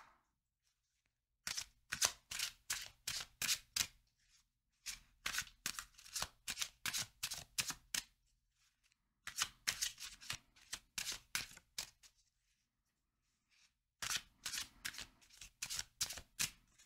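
Mystical Moments tarot cards being shuffled up close in four separate bursts of quick, crisp riffling clicks, with short quiet pauses between bursts.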